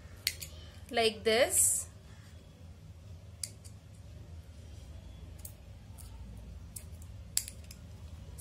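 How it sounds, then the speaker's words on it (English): Scissors snip through plastic drinking straws for a homemade straw flute, a short run of crisp close cuts near the start, followed by faint clicks and handling noises while a person speaks quietly. "You can even add on a number of straws and then cut straw"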